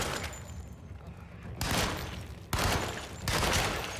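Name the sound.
Tommy gun firing in a horror video game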